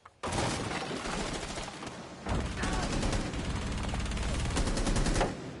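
Rapid automatic gunfire rattles back and forth in a video game match, dense bursts of shots that keep going almost without a break, loud and close, with a brief lull before resuming.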